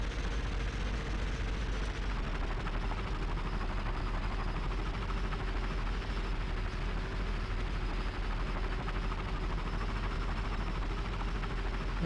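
A propeller plane's engine drones steadily throughout while flying low along a train trestle in a video game, a dense continuous roar with no break and no voices.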